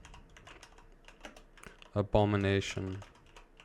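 Someone typing on a computer keyboard with fast, light key clicks under a man's speech. A louder voiced stretch near the end partly masks the tapping.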